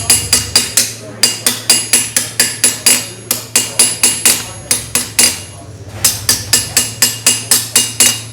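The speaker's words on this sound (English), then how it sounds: "A lot of armor working happens with small hammers." A small hammer strikes a metal armor plate in quick, regular bursts of ringing blows. The hammering is close and loud over a low steady hum, with one short pause partway through.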